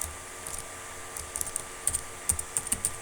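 Close, quiet typing of Python code on a computer keyboard, in irregular bursts of soft key clicks with a few sharper taps, no voice present.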